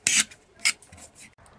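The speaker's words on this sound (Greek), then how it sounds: "με μία φαλτσέτα καθαρίζουμε τα υπολείμματα, τα γρεζάκια που έχει αφήσει ο τροχός" A utility knife scrapes leftover plastic burrs from a Cressi Comanche speargun handle after grinding, giving two sharp rasping strokes and lighter follow-up scrapes, close up with no talk.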